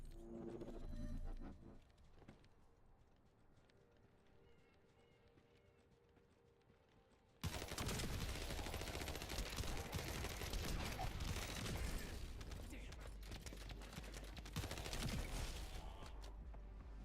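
Rapid gunfire from the Thundercloud gun in the video game The First Descendant, played on hard mode: after a quieter stretch, loud dense bursts of shots start abruptly and keep rattling on steadily to the end.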